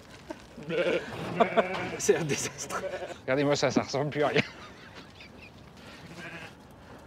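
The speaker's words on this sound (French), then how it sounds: "Oh, bah pauvre mouton, je suis désolé. J'ai un petit peu raté sa coupe." A sheep bleats repeatedly while being clumsily sheared, the bleats loud and close in two bursts, mixed with people talking in French.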